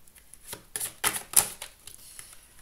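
A shuffled deck of tarot cards is cut by hand, giving a quick series of soft, crisp card snaps and flicks, close and fairly quiet, with no talking.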